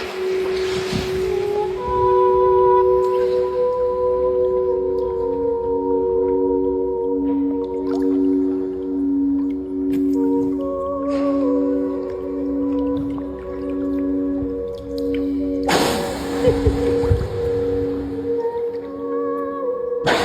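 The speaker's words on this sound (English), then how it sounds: "she actually has whales, beluga whales that are coming up just for the sounds" Beluga whales calling near sound bowls played on a boat: long sustained ringing tones layered with wavering whistles and chirps, steady and fairly loud throughout, with a burst of broader noise near the end.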